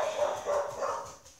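A dog barks and yips indoors, a few quick, fairly faint barks over a short stretch with some background noise, no speech.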